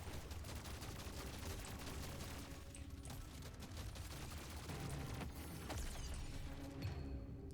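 Shotguns with burning upgrades fire rapidly in Deep Rock Galactic: Survivor, a dense, continuous barrage of overlapping blasts and booms at a steady loud level, with no voices.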